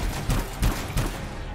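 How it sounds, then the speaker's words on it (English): Marksman rifle fire in the sci-fi shooter Anthem comes as three evenly spaced, punchy shots with a booming low end, loud and close, with no talking. "So I just switched to the marksman rifle."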